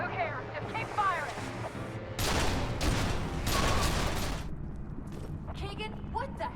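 Gunfire in a battle from the video game F.E.A.R. erupts as a dense burst of rapid shots and crashing impacts lasting a couple of seconds, with voices shouting before and after the barrage.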